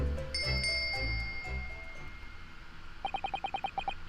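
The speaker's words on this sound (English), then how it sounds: "Yes, it's a bell cord." A bell cord is tugged in the Ace Attorney video game, setting off a quick run of bright, evenly spaced bell rings near the end, after several seconds of soft game music.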